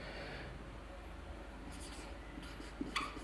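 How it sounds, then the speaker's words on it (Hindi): A pen writes on paper during a maths lesson, with soft, faint scratching strokes close by over a low steady hum and a couple of small tapping marks near the end. "लिखते हैं समकोण त्रिभुज।"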